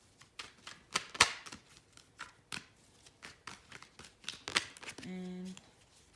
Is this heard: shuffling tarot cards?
yes